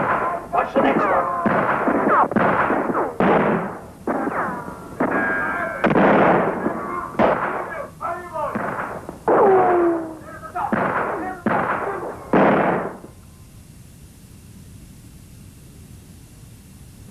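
Musket gunfire striking a log house, a series of loud, irregular cracking shots and booms with ricochet whines, mixed with shouted voices, ending abruptly in near silence.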